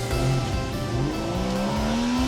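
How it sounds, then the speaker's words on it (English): Convertible car driven with the roof down on a sunny day, with a loud steady engine drone and rising pitch as it accelerates, wrapped in constant wind and road rush. "Driving around with the roof down in this sexy car"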